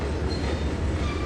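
A train rolls along the track in Trainz 2022, with a steady low rumble of wheels and cars under a faint hiss, continuous and fairly close.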